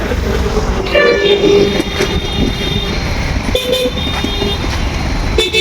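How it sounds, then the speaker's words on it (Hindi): Busy road traffic in Mysore, Karnataka, loud and close, with several car and vehicle horns tooting over a constant engine rumble, including a sustained blare and shorter honks. "इधर पास बहुत सारी ट्रैफिक रहती है, तो आज भी है"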